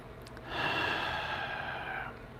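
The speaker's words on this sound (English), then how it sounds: "Take a deep breath." A single deep breath drawn in slowly, close and soft, an audible inhale that lasts about a second and a half over quiet room tone, with no speech.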